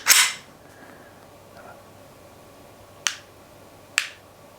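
Trigger on a Springfield XD-M Elite 10mm pistol: a sharp snap, then after a pause two separate crisp reset clicks roughly a second apart, close-up with no voices.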